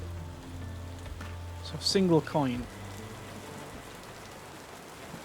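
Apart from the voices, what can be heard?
rain in the video game Tavern Keeper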